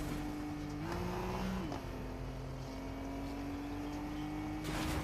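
Video game car engine hums continuously, rising in pitch for a moment then easing down and holding steady, fairly loud and alone throughout.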